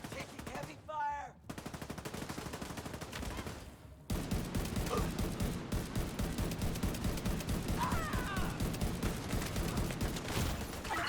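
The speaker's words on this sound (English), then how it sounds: "Man down! Taking heavy fire." Dense, continuous video-game gunfire rattles loudly and steadily, with rapid machine-gun bursts that swell after a brief lull into a sustained heavy barrage.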